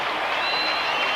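A large football stadium crowd at Owen Field roars and cheers during a 1987 Oklahoma State versus Oklahoma game, a dense, steady wash of distant voices and applause with no pauses.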